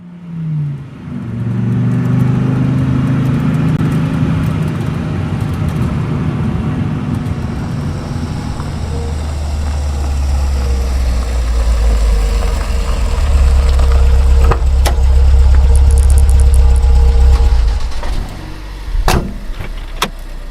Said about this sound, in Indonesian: Mobil melaju keluar kota, meninggalkan Penggansaan Timur dalam keheningan subuh.